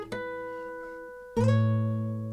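Two ringing guitar harmonics chimed at the 12th fret on a fingerstyle guitar, one plucked near the start and a louder one about a second later, each sustaining bell-like.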